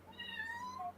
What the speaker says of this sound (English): Your cat's trying to say something.